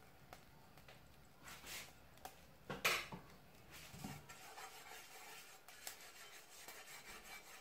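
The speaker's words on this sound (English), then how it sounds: "I will put some small bit of oil and then use my brush to smear" A pastry brush smears about a quarter teaspoon of oil across a non-stick pan for banana pancakes. The soft, faint rubbing and scraping is quiet throughout, with one brief clatter partway through.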